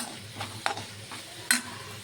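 Maggi noodle seasoning of salt, tomato sauce, coriander and Maggi masala is mixed in a pan over a low sizzle, with a few soft scrapes and two sharper clinks of the spoon against the metal.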